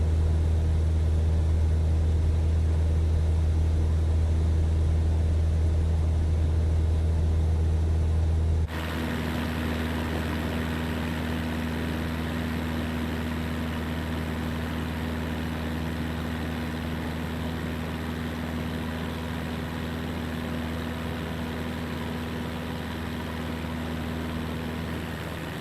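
An aircraft engine idles in Microsoft Flight Simulator, a steady loud drone with a low hum, changing tone partway through and then holding an even, continuous rumble with no talk.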